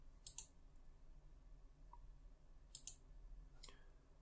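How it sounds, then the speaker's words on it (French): Mouse clicks on a save button in an online video editing app: a quick double click, another double click a few seconds later and a single softer click near the end, close and crisp against a quiet room. "Donc je clique sur enregistrer."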